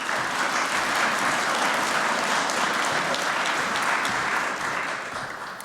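Audience applause welcoming a speaker onto a conference stage, a dense sustained clapping from a large crowd that holds strong for several seconds and then tapers off near the end.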